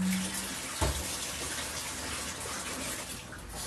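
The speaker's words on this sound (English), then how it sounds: "I'm just going to rinse it with cold water first." Cold tap water runs steadily to rinse cut potatoes, a continuous broadband rush with a brief thump near the start, moderately close and without talk.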